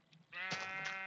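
Sheep bleating in an Alpha-world video game, one sustained, wavering call starting a third of a second in and holding loud and close to the end.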